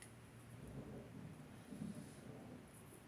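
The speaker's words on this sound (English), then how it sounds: "I have a storm rolling in" A thunderstorm rolls in at midday, low distant thunder rumbling in soft swells with a steady hiss of rain and wind, no voices.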